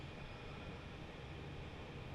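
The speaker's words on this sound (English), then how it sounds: "It looks like a full train of steel too" Freight train in Transport Fever, hauling a full load of steel: a steady, continuous rumble of rolling wagons with a constant mechanical drone, even and unbroken throughout.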